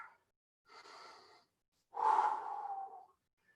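Slow breaths during a held yoga pose: a soft inhale, a pause, then a longer, fuller exhale, close and clear in a quiet room.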